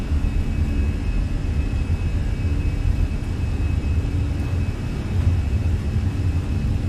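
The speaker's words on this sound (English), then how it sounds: "Takeoff power is set." Twin jets of a Fenix A320 run at takeoff power in Microsoft Flight Simulator, a steady deep rumbling roar with a faint thin whine layered on top, continuous and even from start to finish.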